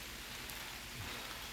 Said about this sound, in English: it's raining in the garden